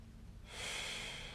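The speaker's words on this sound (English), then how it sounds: "So take a nice deep breath in" A deep breath is drawn in through the nose by someone lying on a foam roller, heard close and steady as one smooth airy inhale that swells and then holds, with no talk over it.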